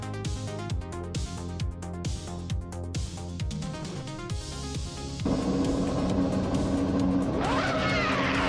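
A field of race cars launches from the start at Algarve in a racing game, dense layered engine roars with rhythmic revving pulses giving way to a loud sustained rush of many cars accelerating together, no speech.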